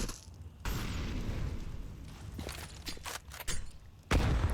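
An HE grenade explodes in a Counter-Strike esports match with a sudden booming blast, followed by scattered pops and bursts of in-game gunfire and a second heavy boom near the end.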